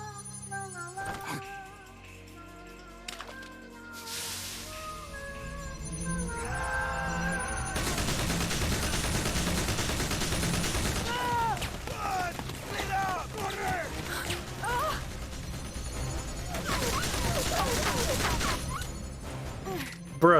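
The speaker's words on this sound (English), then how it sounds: "Bruh, stop shooting." Gunfire in Metal Gear Solid: Peace Walker, starting with scattered clanks and shots, then long stretches of dense, rapid shooting at fairly close range, with voices calling out during the firefight.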